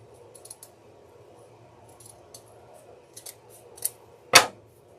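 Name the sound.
cutting a stem at an angle with scissors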